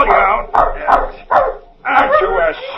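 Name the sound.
pedigreed hunting dog Biff barking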